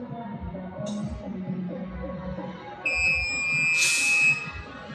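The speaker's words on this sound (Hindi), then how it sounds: "ऑटोमेटिक 35 होने के बाद ये बीप बचने लगेगा, मतलब कि ये कंप्लीट हो गया।" Automatic tyre inflator at a wheel alignment shop beeping once it reaches the set pressure of 35: a steady high electronic tone starts partway through and holds for over a second, over workshop background noise.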